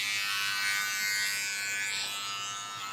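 Electric hair clippers fitted with a number 2 guard buzz steadily as they debulk dry hair during a classic side part haircut, a close, continuous motor hum with no talk.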